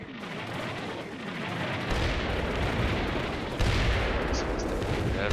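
Artillery fire in the Combat Mission war game, a dense barrage of booming impacts and crackling gunfire that grows heavier, with distant bursts layered over a continuous rumbling roar.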